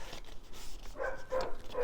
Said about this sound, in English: Good morning, Mr. Next Door's dog.